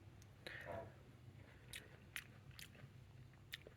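Someone bites and chews an oven-baked cooking apple that keeps a little crunch, giving several sharp, crisp crunches spaced across a quiet background, close to the mouth.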